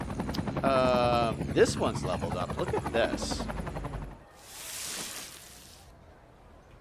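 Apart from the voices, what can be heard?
helicopters flying overhead in Cities Skylines 2 video game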